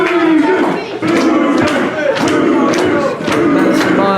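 A wrestling crowd roars and yells continuously at a women's championship match, loud and dense, with a commentator talking over the noise.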